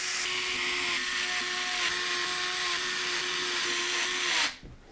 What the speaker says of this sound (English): Then I'm going to use some long radiator screws to secure the bracket to the fans to the radiator.